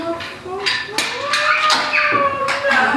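A person mimics a cow's moo with drawn-out vocal sounds in a playful setting with children, the imitation mixed with other voices chattering nearby.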